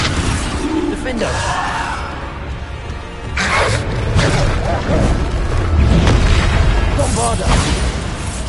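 The Bombarda explosion spell in Hogwarts Legacy produces loud booming blasts amid dense combat noise, and a voice calls out spell names over the bursts.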